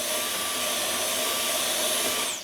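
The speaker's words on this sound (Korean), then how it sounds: "진공청소기 등 이용해서" Loud, constant whine of a vacuum cleaner running close by while it cleans the heat exchanger of a Winix tumble dryer, steady throughout with no speech.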